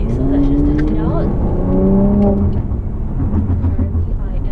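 A 2018 Mercedes-AMG C43 with all-wheel drive accelerating in comfort mode, its engine tone climbing in pitch through the gears, loud and close from inside the cabin, then settling into a steady road drone.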